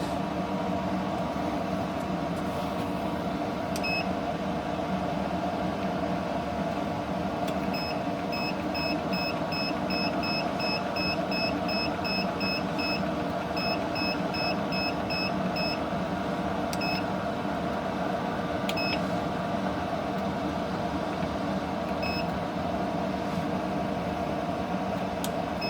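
Control panel of a Masterbuilt vertical pellet smoker chirping short electronic beeps in scattered bursts and quick runs while the timer is set, over a steady fan-like hum.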